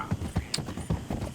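Horse hooves clip-clop in a video game in a short run of distinct, fairly loud hoofbeats with an even walking rhythm, no talk.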